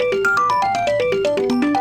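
A mobile phone ringtone plays a quick descending-then-rising melodic pattern of bright beeping notes, loud and close, with no talk.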